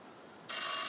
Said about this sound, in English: Like an old rotary phone.